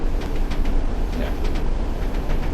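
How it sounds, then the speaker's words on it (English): A Class 101 diesel multiple unit runs on the Tees Valley Line from Bishop Auckland to Saltburn in Train Sim World 5, giving a steady, moderately loud rumble with light rhythmic clicking throughout. "Today we're driving the world's first, like I said, driver-only operated Class 101."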